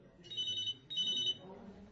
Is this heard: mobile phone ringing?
yes